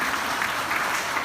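Audience at a Tiger Force Jhelum oath-taking ceremony applauding continuously, a dense steady wash of clapping with no pauses.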